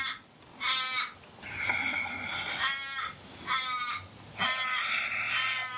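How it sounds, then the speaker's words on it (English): A crow caws repeatedly in loud, harsh bursts of two or three calls at a time, close by and outdoors, separated by short pauses, with steady low background noise underneath. "Our local crow is making a lot of racket"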